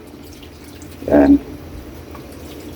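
Water splashes into a pot for pork nilaga broth in one brief, close gush of under half a second, set against a quiet room with a short spoken word nearby.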